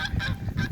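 Geese on a homestead honking in a quick run of three or four loud nasal calls, close by and alone with no talk.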